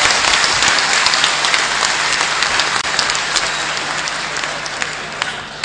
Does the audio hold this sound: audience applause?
yes